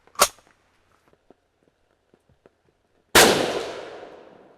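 A single sharp 7.62x39 rifle shot from an SKS cracks loudly and rings out into a long decaying echo, preceded by an earlier smaller pop and faint scattered clicks in between.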